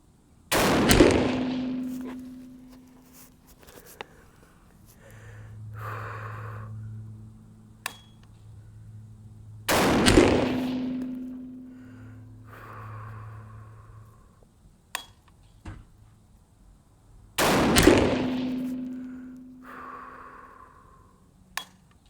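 Three loud rifle shots firing an experimental 350 Legend load over a chronograph ring out outdoors several seconds apart, each sharp crack trailing into echo, with quiet breathing and handling noises between them.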